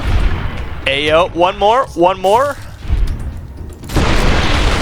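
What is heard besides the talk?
explosions of munitions in the video game Fallout New Vegas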